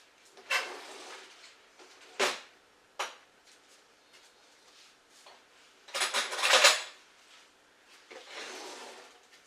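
Someone rummages through cutlery for a fork, making scattered metallic clinks and clattering bursts of silverware knocking together, close by, with quiet pauses between the handfuls and no voices.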